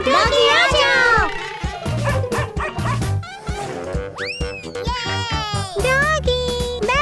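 A robot toy dog yips and barks in quick electronic bursts with whimpering sweeps, while someone talks nearby throughout.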